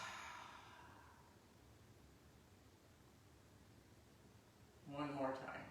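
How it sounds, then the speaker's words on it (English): A slow nasal inhale followed by an audible exhale during a guided breathing exercise, soft and close, mostly quiet hiss with a louder breathy release toward the end. "We inhale through the nose and exhale."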